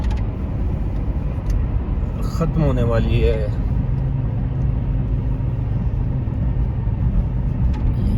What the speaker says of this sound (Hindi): ये आगे हमारे गाड़ी जा रही है